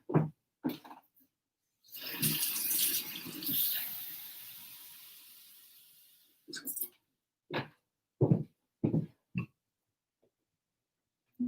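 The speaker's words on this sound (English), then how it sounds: "So I'm going to put a little bit more water in here." Water pours into a mixture in a home kitchen for a dim sum and pastelle dish, a steady splashing rush lasting a few seconds, bracketed by short bursts of nearby talk.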